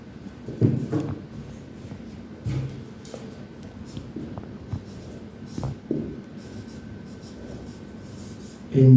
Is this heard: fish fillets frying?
no